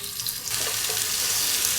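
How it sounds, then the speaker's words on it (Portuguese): Mini hamburgers frying in a little oil in a hot pan, a close, continuous hiss and crackle of sizzling with small pops, rising slightly as the patties are laid in; no talking. "Agora eu vou fritar os nossos mini hambúrguer."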